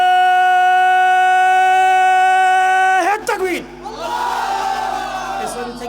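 A large religious gathering shouts the takbir in unison, a loud mass roar of voices rising after a sustained sung note and a brief pause, then swelling and fading.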